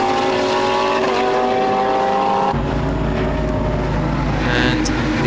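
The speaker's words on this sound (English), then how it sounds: "the McLaren looking pretty lively under braking" A McLaren GT race car in a 2014 Blancpain Sprint Series practice session at Algarve roars loudly, its engine note suddenly dropping and shifting as it brakes into a hairpin.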